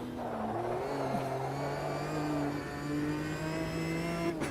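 Race car engine in the Automobilista sim racing game held against the rev limiter, a steady loud buzzing drone with stacked harmonic whine that runs continuously and stays close throughout.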